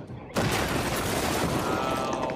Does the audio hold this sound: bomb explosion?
yes